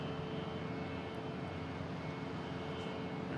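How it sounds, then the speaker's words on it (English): A brand new Frontier Airlines plane at Boston Logan International Airport, heard as a steady broad engine roar at moderate distance. "So the Frontier, it's a brand new plane too."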